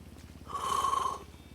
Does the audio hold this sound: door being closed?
no